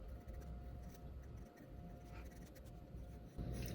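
Darker pencil scratching steadily across paper during a thumbnail sketch, a close, quiet, continuous rasp with brief pauses between strokes.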